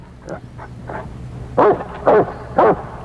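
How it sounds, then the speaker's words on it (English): A Saint Bernard's barking plays from a recording: a few soft yips at first, then three loud, deep barks spaced about half a second apart, close and clear over a quiet background. "That's all. It's just a dog barking."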